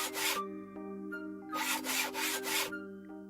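Wood being sawn with a hand saw in a video game: two bursts of rough back-and-forth rasping strokes separated by a pause, close and clear over a steady droning music bed, no voices.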